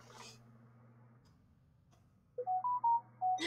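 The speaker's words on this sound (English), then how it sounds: "I got a notification on my phone about the weather." A phone weather-alert notification chimes as a short run of bright electronic tones, fairly loud and close, following a quiet stretch with a steady low hum underneath.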